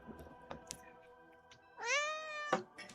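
A cat gives a single clear, drawn-out meow close to the microphone, rising then falling, over a quiet room with faint clicks and background hum.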